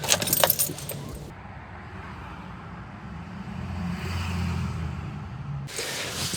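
Keys jangle sharply at first, then a car engine runs and the vehicle pulls away, a steady low motor rumble building slightly before the jingle of keys returns at the end.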